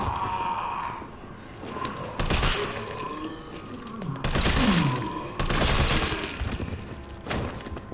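Bursts of gunfire in Resident Evil 3 Remake hit zombies in the head, several loud shots arriving in clusters over game ambience, with a brief voice low in the mix.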